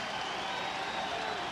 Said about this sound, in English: The Eagles are taking the field to the roar of the crowd here at Paulson Stadium